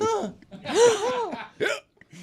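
A man imitates a hiccup with his voice, making a couple of loud, exaggerated hiccup-like yelps with rising and falling pitch, alone and close, with a brief break between bursts.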